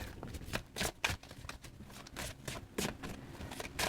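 Tarot cards being shuffled by hand, a run of crisp riffling bursts and soft slaps in an irregular rhythm, close and fairly quiet with no talking.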